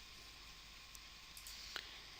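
A computer mouse button gives a few faint, crisp clicks, with a sharper double click near the end, against a quiet steady hum.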